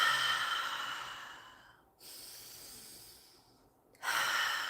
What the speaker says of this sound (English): All right, keep breathing.